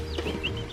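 Small black-striped chicks cluck and peep softly nearby during a short carry home, a brief burst of bird calls over low background rumble.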